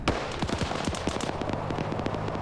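Mortar rounds and gunfire crackle in a military shooter game, a rapid volley of sharp impacts and bursts, loud and dense with no pauses.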